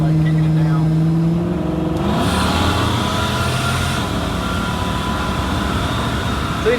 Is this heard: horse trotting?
no